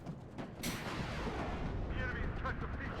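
Gunfire in the Warno video game aimed at a recon helicopter: one sharp, loud shot cracks out and rolls into a long rumbling decay, with further faint reports and steady battlefield noise underneath, while a voice talks over it.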